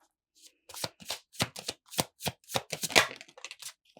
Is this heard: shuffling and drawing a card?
yes